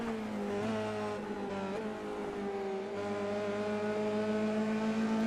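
Light F3 single-seater race cars in iRacing corner at Silverstone's Stowe, engines droning and shifting pitch as they brake and accelerate through the bend, a continuous near mechanical whine with no talk.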